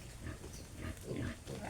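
Native piglets in a bamboo pen grunt and squeal in several short bursts close by, with a rustling background and no talk.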